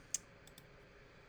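A few quiet computer mouse clicks while shift-clicking edges in Shapr3D: one sharper click followed by two fainter ones, close and soft.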